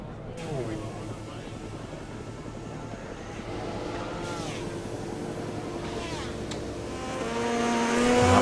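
A KTM motorcycle laps a track in MotoGP 20, its engine a steady buzzing whine that sweeps up and down through gear changes and swells louder near the end, with no talk over it.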